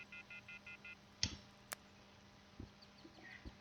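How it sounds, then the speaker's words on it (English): A cell phone in the visual novel game Everlasting Summer dials with a quick run of six short, evenly spaced touch-tones, followed by a sharp click and a few faint taps, quiet and with no talking. "I took out my cell phone and dialed the first number from my contact list."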